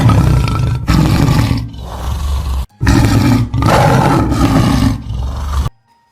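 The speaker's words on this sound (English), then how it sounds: "Tiger." A tiger roars in several loud, deep, rumbling bursts one after another, close and powerful, separated by brief breaths before ending abruptly.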